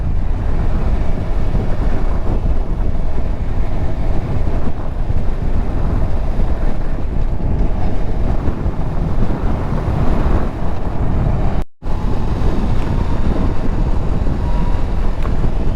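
Steady, loud wind buffeting a microphone on a moving 2022 Yamaha MT-10 motorcycle, a dense roar that continues throughout and cuts out briefly near the end, with no voice.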